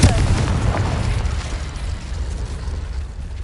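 Confringo explosive spell cast in the video game Hogwarts Legacy, a loud booming blast at the start that rumbles on through a dense, low, sustained roar as it fades over a few seconds.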